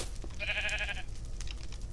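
Sheep bleat once in a video game, a short wavering cry over a constant low rumble of game background noise.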